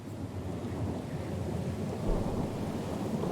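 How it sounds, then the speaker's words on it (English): A stormy sea in the fantasy game Pillars of Eternity 2: Deadfire, where a small sloop is caught in the storm. Low thunder rumbles steadily under wind and rain, swelling to a heavier roll near the end, with no voices. "A little sloop, lost and alone in the storm."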